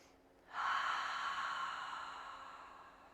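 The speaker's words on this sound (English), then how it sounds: "Give yourself a sweet breath right here" A single deep, slow inhale during a yoga class, starting abruptly and sustaining as a soft, breathy rush that gradually tapers, close and fairly quiet.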